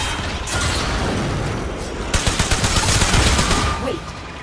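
Security eye turret in the game Warframe opening fire, a loud rapid burst of mechanical gunshots following a whooshing sci-fi hum, with brief rattling bursts in close succession.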